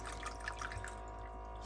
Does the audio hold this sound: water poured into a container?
yes